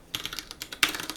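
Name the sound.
typing on a computer keyboard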